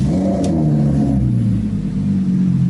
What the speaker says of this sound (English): Let's warm the car up.